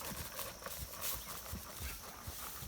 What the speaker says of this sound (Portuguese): O cavalo está marchando, né?